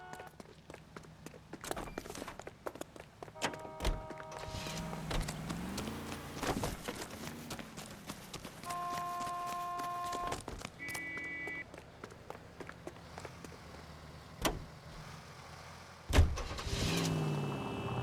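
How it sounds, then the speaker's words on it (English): In the video game L.A. Noire, footsteps lead to a car door, then the car pulls away and drives, its engine a low steady drone under scattered game effects and tones, mostly moderate and fairly distant. "Get in and drive."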